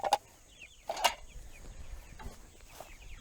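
Chickens on a farm give a few soft scattered clucks and calls at a moderate distance, with some background noise and no talk.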